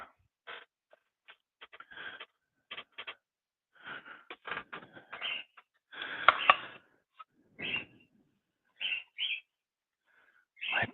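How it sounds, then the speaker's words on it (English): Pet birds chirp and squawk in short, scattered bursts separated by silence, fairly close and moderately loud, with a busier cluster of calls midway. "My birds are going crazy."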